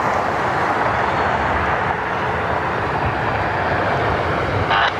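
An American Airlines Boeing 737 MAX 8 jet from Dallas roars steadily at an airport, a broad continuous rumble at constant loudness throughout.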